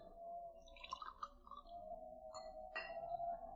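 Sherry is poured and a glass served in a period radio drama: soft trickling liquid and a few light glass clinks, with a sustained tonal hum underneath and a sharper clink near the end.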